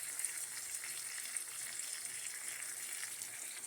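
Gravy poured into a hot frying pan with steaks, giving a steady, fairly faint sizzle and hiss that holds evenly throughout with no voices.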